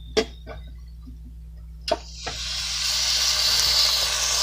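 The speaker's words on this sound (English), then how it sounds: "There's our steak, and we got it on our grill." A steak sizzles on a grill, a steady hissing sizzle swelling up and holding after a few sharp clanks and taps of placing it down, close and continuous over a low background hum, no talking.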